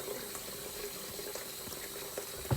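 Water runs steadily in a home shower during hair washing with toner shampoo and conditioner, a soft continuous hiss with faint splashes and one brief louder splatter near the end.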